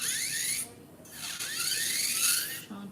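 An electric nail drill shapes acrylic nails with a thin, high whine that rises and falls in pitch as the bit changes speed. It cuts out briefly twice, then restarts, close and fairly quiet.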